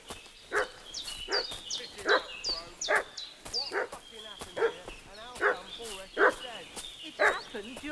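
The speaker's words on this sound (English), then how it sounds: "What's that dog making such a fuss about?" A dog in Kingdom Come Deliverance 2 fusses and barks in a steady series of about nine sharp, fairly close barks and yips with whimpering tones between them.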